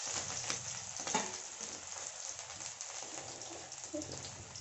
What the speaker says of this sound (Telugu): ఇప్పుడు ఇడ్లీలు వెంపుకోవాలి